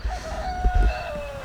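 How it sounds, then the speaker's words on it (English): A chicken on free-range pasture gives a drawn-out crow, clear and close, over low outdoor rumble and without any talking. "We'll move over to one of the chickens and you'll see what it's doing right now."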